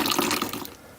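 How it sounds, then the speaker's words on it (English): Silty water running from a hot water tank's bottom drain into a bucket, a short splashing gush that fades quickly. "You can unscrew that and just let the water run everywhere."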